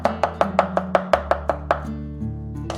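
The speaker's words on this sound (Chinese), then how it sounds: "然后再切成蒜末" A kitchen knife minces crushed garlic on a cutting board with about ten quick, even chops in close succession, then stops, leaving a low steady hum; no talking.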